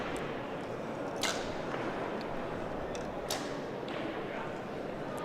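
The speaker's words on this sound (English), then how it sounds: "You could hear it in the arrows when the bow fires and the distance it travels" Arrows loosed from bows at a women's pro archery shootdown, two sharp whooshing releases standing out over steady crowd and outdoor ambience, fairly faint.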